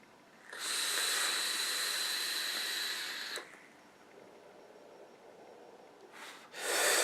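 A long, dense exhale of vapour from an electronic cigarette tank running at 0.3 ohm, a steady airy hiss lasting a few seconds, then a quieter stretch and the start of another breathy puff.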